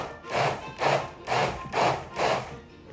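A food processor pulses chile sauce for chile relleno in five even, rhythmic bursts of whirring and chopping, each about half a second long, loud and close with no talking.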